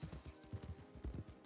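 Horses walking on a plateau, hooves clip-clopping in a steady uneven rhythm, fairly close and soft, with no talking.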